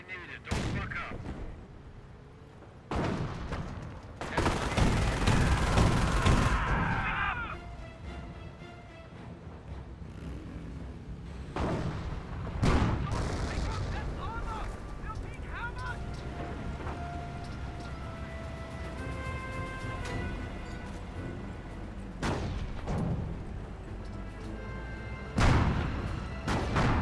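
Booming artillery and crackling gunfire from a Company of Heroes battle, with heavy blasts at intervals over a steady rumble of distant combat.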